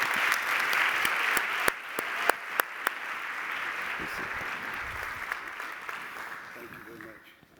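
Audience clapping in a chapel to welcome a speaker to the platform, a sustained, fairly loud wash of applause with a few sharp individual claps, fading out toward the end.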